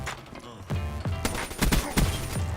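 Rapid bursts of buffed HVK rifle fire in Black Ops 3, several sharp cracks in quick succession close up, loud with a little background game noise.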